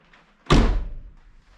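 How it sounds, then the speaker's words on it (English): An Autozam AZ-1's upward-swinging door gives a single sharp thunk as it is worked open, a close, loud knock that rings out and fades over about a second. "Let's open the door a little bit higher."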